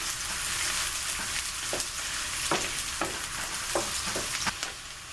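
Home-fried potatoes sizzle steadily in a pan, a dense continuous frying hiss broken by several soft stirring scrapes, close and alone with no voices.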